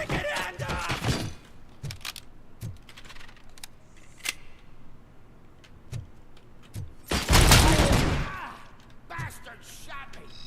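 Gunfire in the RoboCop video game: sharp scattered shots and bursts over several seconds, including one dense burst of rapid fire partway through, with voices speaking between the shots.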